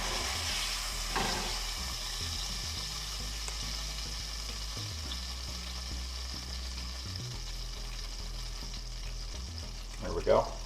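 Fish fillets sizzle and fry in a pan, caught and cooked outdoors on the Applegate, with a steady close crackle throughout and a brief louder clatter near the end.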